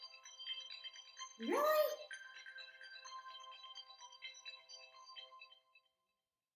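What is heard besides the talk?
phone text message alert ringing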